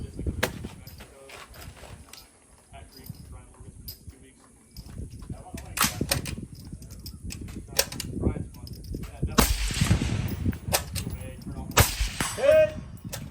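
Sharp gunshots from a Springfield Hellion rifle during a course of fire, a few loud cracks spaced across the stretch with a voice talking quietly in the background.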